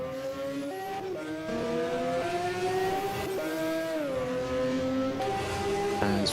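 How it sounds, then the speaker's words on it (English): A BMW E30 Turbo race car at a hillclimb in Trieste Opicina crosses the finish line, its engine revving hard through several gear changes with rising and falling pitch, loud and sustained. "as the 231 BMW E30 Turbo crosses the line"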